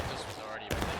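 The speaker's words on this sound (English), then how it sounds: "Guys are shooting MB." Burst of rapid gunfire from soldiers shooting in a large-scale online war game, a sharp crack cutting through dense battle noise and radio chatter, with voices talking over it.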